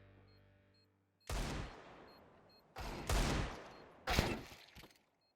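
Desert Eagle gunfire in Counter-Strike 2, three loud, sharp shots spaced over a few seconds, each with a ringing decay, after a quiet start.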